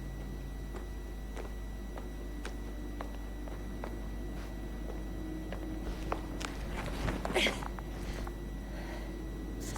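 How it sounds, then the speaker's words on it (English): Footsteps in The Invincible, evenly paced steps on a hard surface over a low steady hum, with a brief cluster of rustling near the end. "His footsteps."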